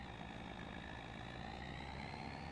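A heavy truck engine idles at a low, steady rumble in a farming and logging simulation game set at a sawmill, a constant drone near and alone for the full stretch.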